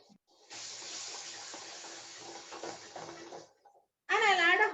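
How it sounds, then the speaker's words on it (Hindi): Half a cup of water poured into a pan while cooking Shanghai noodles, a steady splashing pour lasting about three seconds, followed by a voice speaking. "And I'll add a half a cup of water."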